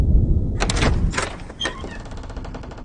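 Door opening in the horror game DreadOut, with a few close wooden thunks and creaks in quick succession after a brief low rumble, then a fading rattle.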